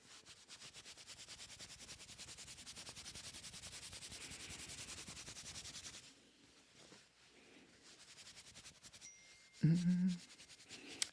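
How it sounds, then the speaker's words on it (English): A scratch-off card is scratched and rubbed briskly in a steady, rhythmic rasp for about six seconds; it then falls quiet apart from faint handling and a brief louder knock near the end. "I was told to scratch it like a lotto ticket. I gotta scratch it?"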